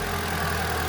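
A car engine idles steadily at close range just after being started with the key, its battery weak and not fully charged; a constant mid-low rumble runs throughout with no voices.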